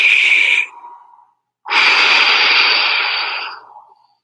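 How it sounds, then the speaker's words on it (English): One big, deep breath drawn in loudly, a brief silent pause, then a long, full exhale that trails off, close and clear with no talk. "2 maximal expansive breaths, same thing, just big breath in"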